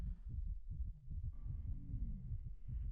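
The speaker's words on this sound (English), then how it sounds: "I can feel my heartbeat pulse through my entire body." Low, throbbing heartbeat sound effect, a steady run of soft, muffled double thumps at a quick regular pace, faint and close with a dim hum rising underneath and no speech.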